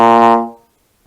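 A trombone sounds a single sustained low B flat in first position, full and steady, then it fades out into silence.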